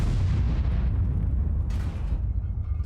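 Grille 15 tank destroyer's gun firing in World of Tanks, a heavy low boom with a long rumbling tail that fills the whole moment, loud and close.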